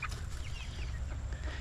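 Chickens cluck softly and intermittently at a distance over a steady low rumble of background noise, with no one speaking.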